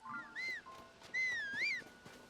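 A two-note rising and falling whistle called out in Zelda: Tears of the Kingdom to summon a horse, sounded twice with a gap between, clear and fairly close over a quiet background.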